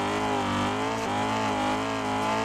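A drift car in the game Assetto Corsa holds a loud, sustained engine roar in third gear, revs wavering slightly and steady without break, with a faint tire squeal mixed in.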